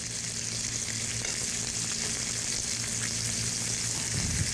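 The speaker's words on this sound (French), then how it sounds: "La première étape, ça va être d'y mettre les échalotes. On va tourner les crevettes un peu" Shrimp and shallots sizzle steadily in a hot pan, a dense continuous frying hiss with a brief low stir or clatter near the end, close and fairly loud with no talking.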